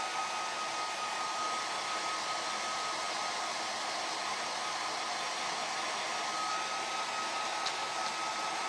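A hair dryer blows steadily at close range, drying a craft piece for a window decoration, a constant loud whooshing hiss with a faint whine and no voices.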